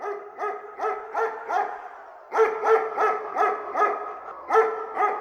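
A dog named Dino barks repeatedly in quick bursts, close and fairly loud. A short pause falls midway, then another steady run of sharp barks follows.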